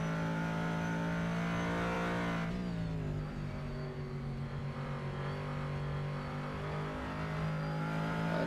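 A Corvette Callaway GT3 engine in a sim racing game revs hard and steadily through a corner, a sustained loud drone with a brief shift in pitch midway, with no voices.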